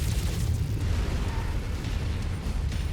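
In MechWarrior 5: Mercenaries, an enemy mech is destroyed by missile explosions, a dense, continuous roar of blasts and rumbling that stays loud and steady for about three seconds, with no voices.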